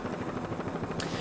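A helicopter filming an offshore powerboat race from overhead gives a loud, steady rotor roar with rapid rhythmic chopping that fills the whole moment, with no voices.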